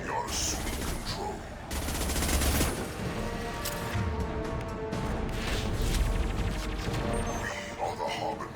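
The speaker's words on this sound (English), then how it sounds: "Firing a high impact shot." High impact gunfire in Mass Effect 2 on Insanity difficulty: loud bursts of rapid shots and crashing impacts in dense, sustained volleys, with a voice talking over the combat.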